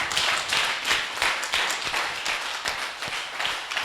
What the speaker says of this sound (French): On acclame pour dire merci à Dieu